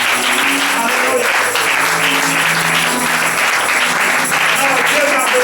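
A church congregation claps loudly and continuously, mixed with shouting, cheering and singing voices.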